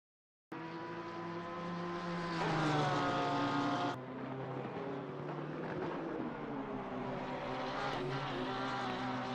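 GT race cars lapping the Nürburgring GP circuit in Assetto Corsa Competizione during a qualifying session, a loud continuous engine roar with rising and falling harmonic pitch as gears shift, swelling near the three-second mark and then holding steady.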